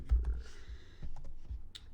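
Keys tapped on a computer keyboard in a loose, irregular run of close clicks, a few heavier strokes among lighter ones, with no speech.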